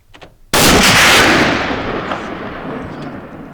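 A single loud rifle shot fired at a Cape buffalo while hunting in Zimbabwe's Zambezi Valley, a sharp close blast that rolls into a long, fading echo across open ground.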